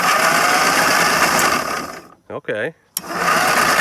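Dixon riding mower engine, long neglected, running loud and steady with a broadband roar that drops out briefly while a voice speaks over a quieter gap, then roars back up.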